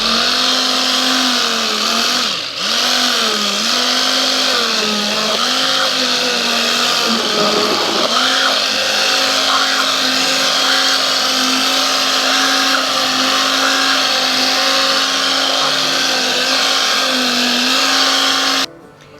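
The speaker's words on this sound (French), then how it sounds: "Nous écrasons bien notre potimarron." Cooked red kuri squash cubes are mashed and blended for a velvety soup, giving a loud, steady motorized whir with pitch wobbles that runs continuously before cutting off abruptly at the end.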